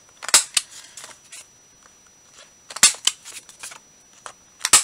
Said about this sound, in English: if I can get this to cut, we're going to round these corners